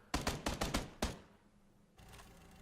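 Rapid bursts of gunfire in the battle royale game PUBG, a string of sharp close shots followed by a single crack, then a quieter stretch and faint distant firing.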